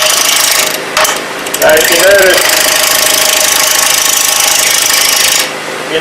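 Wood lathe spinning at 800 RPM while turning a sushi platter, a steady loud whir with rattling mechanical noise throughout, briefly dropping off near the end, with a voice speaking over it.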